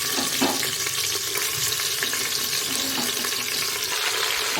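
Mutton pieces frying in ghee with masala for a korma give a loud, dense, continuous sizzle and crackle, close up, with faint stirring throughout.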